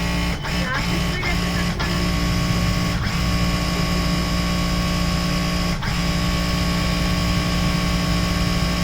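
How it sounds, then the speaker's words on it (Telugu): A Singer SS99000 sewing machine runs flat out at its 3500 speed setting, a dense steady mechanical whir held without a break, with a few sharp clicks scattered near the start. "ప్రతిరోజు మిషన్ మీద పొద్దున కూర్చున్నప్పుడు 3500 స్పీడ్ పెట్టుకొని ఒక 30 సెకండ్లు ఉట్టిన"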